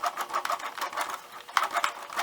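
A sewing machine turned slowly by its hand crank sews a few stitches along a bias-bound blouse neckline, a soft, rhythmic run of light mechanical ticks and whirs, close and quiet, with no talking.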